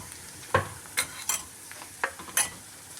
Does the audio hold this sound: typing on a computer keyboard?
no